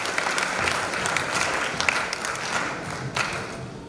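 An audience at a 60th birthday celebration applauds in a dense, sustained burst of clapping with a few sharper claps and faint crowd murmur underneath.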